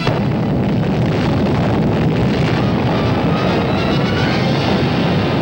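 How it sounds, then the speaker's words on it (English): An underground atomic bomb test explosion in Nevada comes across as a loud, sustained roaring rumble with a windy, distorted texture. It stays steady and overwhelming the whole time, with no voices. "Troops in Nevada prepare for an underground atomic explosion"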